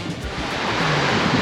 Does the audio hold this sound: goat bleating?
no